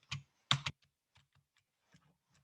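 A few computer keyboard keys pressed, with one stuck left arrow key repeating input: two louder clustered clacks near the start, then scattered faint light taps, with no talking.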